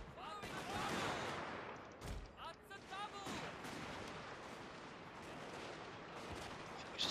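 Massed musket volleys crackle across a Total War: Fall of the Samurai battlefield as units charge, with overlapping shots, distant rumbling and faint shouting, fairly quiet and continuous throughout.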